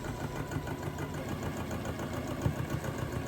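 Race car engines from the Talladega race playing on a TV in another room, a steady mid-range engine drone with a faint rhythmic pulse, low and continuous in the background.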